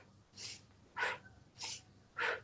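Four soft breaths, alternating short airy exhales and fuller ones, spaced about half a second apart during a slow leg-pulse stretch in a splits flexibility routine; close, quiet and steady with no talking.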